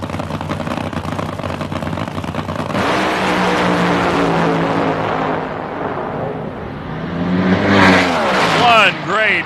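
NHRA drag race cars at the 1997 Fram Nationals roar down the quarter mile with loud sustained engine noise, rising pitch sweeps near the end as they pass, and commentary running over the top.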